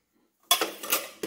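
A knife scrapes macaron batter off the side of a mixing bowl, giving a few quick scraping clinks close by after a moment of silence.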